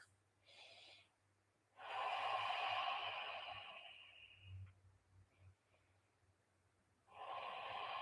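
Deep breathing during a yoga class in bridge pose, a few long airy breaths, moderately close and quiet, separated by short pauses.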